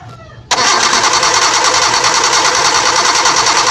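A Mitsubishi Lancer with a 4G92 engine cranks and catches abruptly, then runs at a loud, steady idle close by, with a faint murmur before the start.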